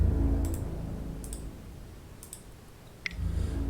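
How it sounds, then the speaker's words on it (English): Several sharp mouse clicks spaced over a few seconds while clicking through the attack phase of a digital card game, faint over low background noise, with no talking. "Trying to click through my attack phase."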